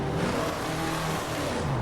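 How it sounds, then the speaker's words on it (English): A Dodge Demon's supercharged engine in the Roblox game Midnight Chasers, holding a steady, loud drone throughout with a faint whine buried beneath the rough engine note, no voices. "like the Dodge Demon, it definitely has a supercharger whine to it, but it's just not really that loud."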